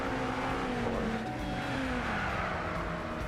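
BMW and Subaru race cars in Gran Turismo Sport scream along together, engine notes rising and falling steadily at close range with a faint squeal of tires, no voices over the continuous roar.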